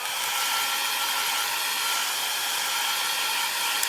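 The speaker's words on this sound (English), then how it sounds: "And I'll just come in and dry it." A heat tool or dryer blowing to dry alcohol inks on Yupo card, a steady loud airy whoosh that holds without a break throughout, with no voices.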